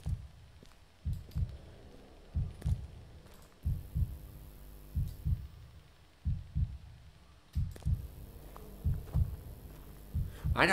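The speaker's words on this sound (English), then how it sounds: "I had a heartbeat." A heartbeat sound effect in a scary video game: steady, deep double thumps repeating throughout, low and close over a faint hum, with no talking.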